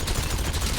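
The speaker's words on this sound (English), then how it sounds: "Stop shooting at me, too." Sustained police gunfire in GTA V, a dense unbroken barrage of overlapping shots filling a loud, crowded game soundscape.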